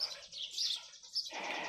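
Baby birds in a garden chirp in thin, high, continuous calls, faint and somewhat distant, with no one talking.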